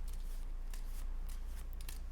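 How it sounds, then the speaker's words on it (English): A deck of playing cards shuffled at a magic show, a series of quick riffling bursts over a constant low hum, close and steady. "we'll shuffle up the deck"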